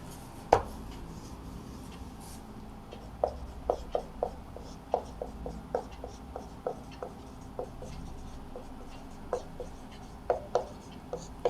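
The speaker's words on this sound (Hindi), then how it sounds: "सबसे पहले तो लिखेंगे दिए गए समीकरण निकाय" Equations are handwritten on paper, with a quiet, steady run of pen scratches and sharp taps that come in uneven clusters, close to the microphone with no talking.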